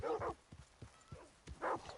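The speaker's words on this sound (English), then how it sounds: "it'll be dog barking inside the fort here" A dog barks inside the fort in Red Dead Redemption 2, a few separate woofs at moderate distance with soft clopping between them.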